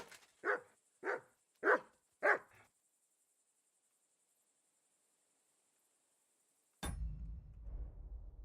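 A dog in the video game Kingdom Come: Deliverance II barks four times in a steady, evenly spaced run, close and clear, then falls silent before a low rumbling noise starts.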